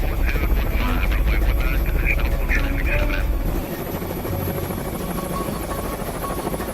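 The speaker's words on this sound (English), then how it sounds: "One helo heads straight for the landing pads" Marine presidential helicopter approaching the landing pads on the South Lawn, a loud steady rotor and turbine roar with rhythmic blade chop that drops in level midway, voices faintly mixed underneath.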